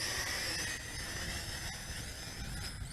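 Snaptain SP660 quadcopter motors whine steadily overhead as the drone descends to land, a constant high-pitched buzz with harmonic tones over a broadband rush, fairly loud and close throughout.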